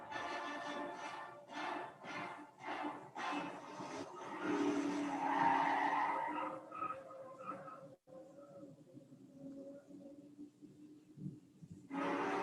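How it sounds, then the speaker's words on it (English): Tyres skid and squeal as a car careens toward a cliff edge in a Star Trek (2009) film scene, loud bursts of engine and skidding noise fading into quieter rumbling, with a final loud surge. "where he runs away with the car and nearly drives off a cliff"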